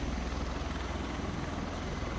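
A helicopter, Marine One, lifts off with a loud, steady, close rotor-and-engine roar and a fast underlying chop, with no voices.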